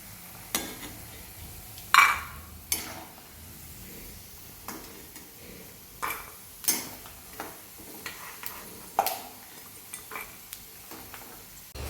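Puffed rice (mamra) being stirred and roasted in a pan, giving repeated scraping and rattling clicks at an uneven rhythm, with a soft continuous background hiss and no talking.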